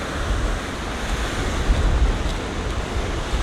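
Surf breaks and washes continuously onto the shore at Martins Bay, Barbados, a loud, steady roar of churning water mixed with gusting wind noise across the microphone, with no voices.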